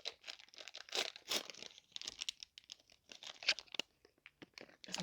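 A packet of caramel M&M's being torn open, with close crinkling, rustling and sharp tearing of the plastic wrapper in irregular bursts over several seconds, no talk.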